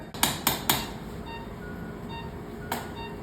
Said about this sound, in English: What's he using to head it? It's a big slotted mallet